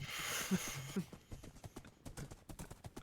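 Rhythmic clip-clop of horse hooves in Minecraft during horse parkour, a quick even trot of soft knocks that follows a brief game noise at the start.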